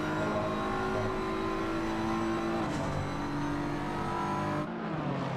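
A BMW race car engine in a sim racing game climbs a hill at Silverstone or the Nürburgring GP circuit, a sustained high-revving drone with pitch shifts as gears change, other engine tones layered underneath.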